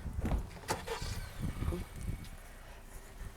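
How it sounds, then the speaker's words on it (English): Someone climbing into a car: a few close thumps and rustles, a sharp click of a door or latch, and shifting noises that settle into a quiet cabin. "Hold on, let me get in the car."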